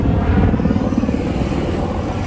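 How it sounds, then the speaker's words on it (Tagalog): A helicopter flying past Mayon Volcano, a loud, steady low rotor rumble with a rapid throbbing pulse that holds close and strong throughout. "You know, helicopter dadaan sa Mayon Volcano."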